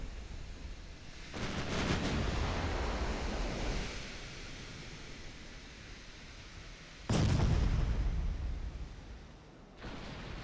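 Battleship 11-inch guns fire during a naval battle in a video game, giving two heavy booming blasts a few seconds apart, each followed by a long rumbling decay over a washing, surf-like background.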